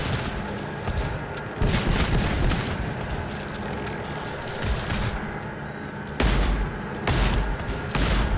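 Weapon fire in the shooter game GTFO rattles out in rapid, dense bursts of loud gunshots, nearly continuous with heavier booming hits near the end.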